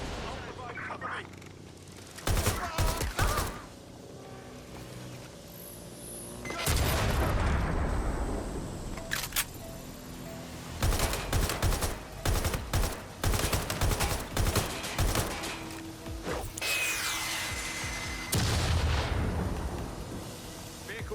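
Gunfire in the video game Watch Dogs Legion during a boss fight, bursts of rapid automatic shots and heavy booms in irregular clusters, loud, with voices speaking between and over them.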